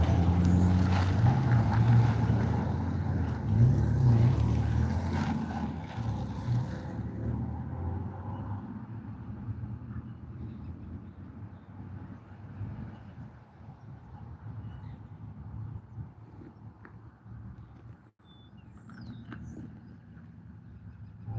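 A main-line train rolling along the railway, a loud rumbling pass at first that gradually fades into a quieter distant hum, no speech.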